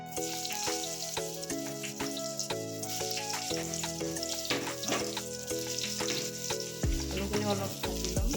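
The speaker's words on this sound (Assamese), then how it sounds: "এই তেলখিনিতে আলুখিনিও এনেকৈ ভাজি ল'ম।" Potatoes frying in oil left over from frying fish and broccoli, a steady close sizzle that runs on without talk.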